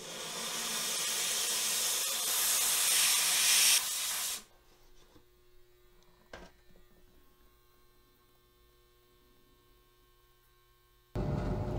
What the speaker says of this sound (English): let's bring this up over here to the steam cleaner and give this